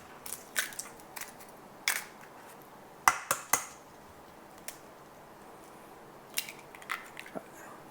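Three eggs cracked into a bowl in a kitchen: sharp, brief taps and shell cracks scattered at irregular intervals, with light clinks against the bowl between quiet pauses.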